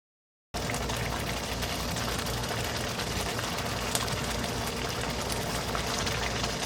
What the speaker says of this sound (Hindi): अब इसके अंदर पानी थोड़ा सा ऐड करेंगे, इसको अच्छी तरह से कुक करेंगे और मीट को अपना टेंडर करेंगे